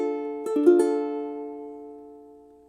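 A single ukulele D minor chord strummed once and left to ring, its sustained tone fading slowly over a couple of seconds with no other sound.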